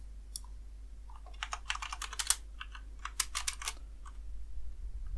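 Typing on a computer keyboard while coding, bursts of quick clicky keystrokes in irregular clusters with short pauses, close and clear over a low steady hum.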